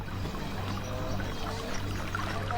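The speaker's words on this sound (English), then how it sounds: "just spilling water into the street" In the Heaven's Vault video game, water spills into a stone street in a continuous, soft, steady pour and trickle, low in level and unbroken, with no voices.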